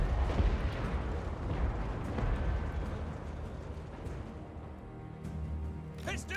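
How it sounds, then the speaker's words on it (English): Heavy artillery fire pounds away in the Total War Warhammer 2 battle game, a dense rumble of overlapping booms and blasts, loud at first and gradually easing, with a few sharper high crackles near the end. "It is getting pummeled by multiple powerful artillery units"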